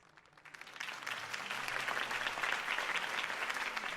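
A crowd applauds steadily in the video game Batman: The Telltale Series, the clapping swelling in over the first half-second and then holding loud and dense throughout.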